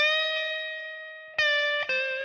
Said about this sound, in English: On that 15 on the B string, we're going to give a half step bend.